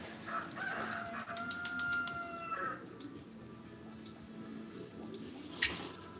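A domesticated rooster crowing, a drawn-out tonal call in the first few seconds, moderately near, followed by quieter background noise and a brief sharp sound near the end; no one speaks.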